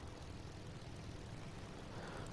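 Military aircraft engine drone during a runway landing in War Thunder, a steady low propeller-and-engine hum, faint and continuous throughout.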